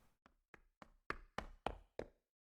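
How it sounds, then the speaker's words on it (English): Running footsteps pound down a hallway in Danganronpa V3: Killing Harmony, eight evenly spaced thuds that grow steadily louder and closer before stopping. "We heard footsteps running fast down the hallway, the sound growing louder until the door burst open"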